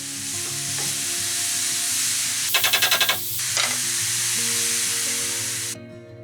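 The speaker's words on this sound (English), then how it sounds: "I'm going to fry off the mushrooms first" Mushrooms sizzle steadily as they fry in olive oil in a pan, with a loud clatter of stirring partway through before the sizzle fades near the end.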